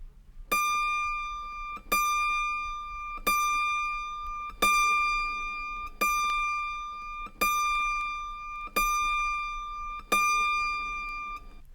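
High C string of an autoharp, the last in the upper octave, plucked about eight times at a steady pace, each bright metallic note ringing out and fading before the next pluck.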